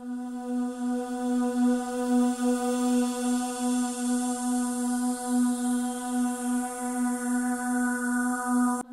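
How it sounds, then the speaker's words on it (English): Single sustained B3 note sampled from a Korg Triton VST synthesizer, a bright harmonic tone with gentle wavering that holds evenly for about nine seconds before cutting off abruptly at the end. "So I have this B3 note that I sampled from the Korg Triton VST."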